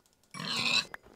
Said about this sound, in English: Now I'm going to attack some pigs with a wooden axe.